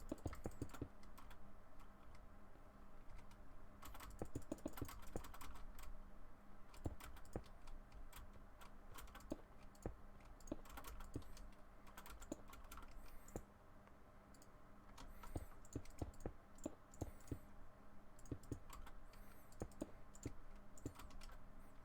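A loud mechanical computer keyboard clacks as someone types in quick, uneven bursts of sharp clicks, close and steady with a brief pause near the middle.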